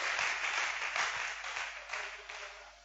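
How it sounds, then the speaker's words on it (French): A church congregation applauds and cheers for the king, a steady wash of clapping from many hands that holds for a few seconds and slowly tapers off. "Est-ce qu'on peut acclamer pour le roi?"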